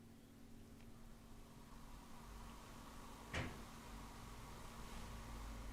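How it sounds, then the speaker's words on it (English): A single sharp knock on a cabinet, one brief distinct hit standing out near midway through a quiet room with steady low hum. "could you go and knock the cabinet that you like?"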